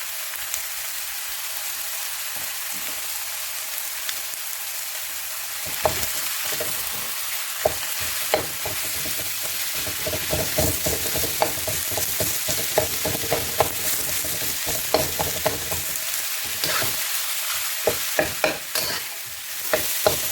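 Pork fries in a pan while being stirred, a continuous loud sizzle broken by frequent clattering scrapes and knocks from the stirring, close up with no talking.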